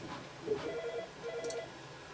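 A telephone rings in bursts near a desk where a 2013 Mac Pro is being upgraded, its warbling tones repeating twice over steady room noise.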